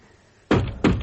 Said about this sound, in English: I started to bang on the cell door again